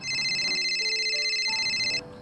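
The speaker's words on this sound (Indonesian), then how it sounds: "bapak ada yang nelpon" A telephone rings with a steady electronic warbling tone for about two seconds, close and fairly loud, then cuts off, with no talking.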